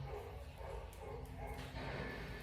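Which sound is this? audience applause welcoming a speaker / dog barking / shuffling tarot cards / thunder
dog barking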